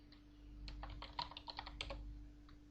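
Keystrokes on a computer keyboard entering a command in the Aardwolf MUD text game, a quick burst of light clicks over a steady low hum, fairly faint and without speech.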